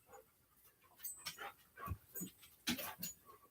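Dogs pant and whimper nearby in quiet, soft bursts of breathy huffs and thin whines, with small yips scattered across a few seconds.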